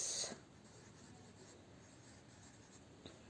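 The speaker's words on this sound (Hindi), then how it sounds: "नॉर्मल ओ को मैं एक बार बना के दिखा रही हूँ" A pen draws the hiragana character o on paper, giving a faint, continuous scratching stroke in a quiet room after a brief louder rustle at the start.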